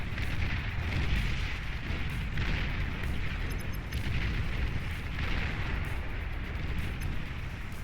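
Units in the strategy game Beyond All Reason are destroyed in a dense, continuous barrage of booming explosions and artillery-like blasts, loud and unbroken throughout with no speech.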